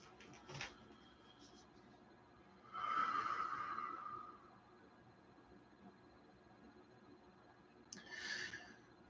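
Slow breathing during a guided meditation: two soft, drawn-out breaths near the microphone, a longer one lasting about a second and a half and a shorter one later, over quiet room tone.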